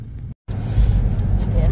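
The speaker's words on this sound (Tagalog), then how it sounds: "may sasakyan kami at ipag-drive niya ako" Car interior rumble while driving at night, a steady low engine and road drone close by that briefly cuts out and then resumes, with speech present.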